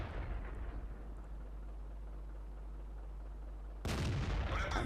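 A tank cannon shot in World of Tanks, heard as a sudden loud broadband blast near the end that follows a low steady rumble of engine and ambient battle noise.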